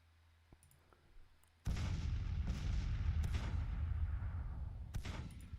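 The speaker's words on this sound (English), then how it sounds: "Not sure who my artillery's firing on." Artillery in Grand Tactician's Gettysburg battle: after near-quiet, a heavy cannon boom opens a sustained roar of distant barrage, with further booms rumbling through it and no voices.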